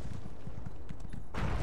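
A horse galloping in The Elder Scrolls Online, rapid rhythmic hoofbeats that drum steadily and close, ending in a louder burst of game noise.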